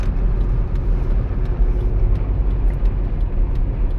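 A car drives through road traffic: a steady, loud low rumble of engine and road noise with passing-vehicle swells, heard from close by with no talking.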